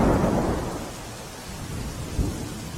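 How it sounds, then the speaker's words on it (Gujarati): Heavy monsoon downpour on Pavagadh hill amid thick fog, a dense steady roar of rain with low rumbling thunder, loudest at the start, with no voices. "ભાવિકોએ ધોધમાર વરસાદ વચ્ચે માતાજીના દર્શન કર્યા।"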